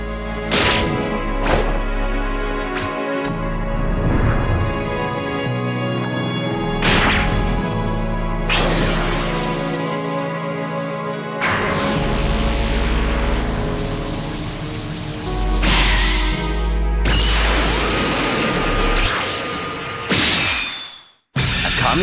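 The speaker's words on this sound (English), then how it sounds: "Kami is able to effortlessly slap away the blast of one of the youngsters" Kami, the guardian deity in a Dragon Ball fan animation, slaps away a youngster's energy blast amid loud layered impact effects: sharp whip-like cracks, whooshes and crashing thwacks recurring in bursts over a sustained rumbling score, no talking.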